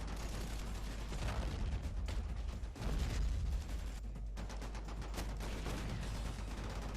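Modded rifle fire from the Sudden Strike 3 video game, dense rapid gunshots and machine gun bursts with heavy booms, continuous and loud throughout, no talking.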